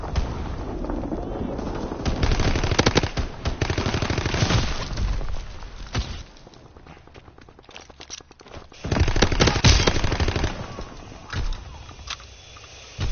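Gunfire in Call of Duty WW2 comes in dense, loud bursts of rapid shots, breaking off to a quieter stretch and then returning in heavy volleys.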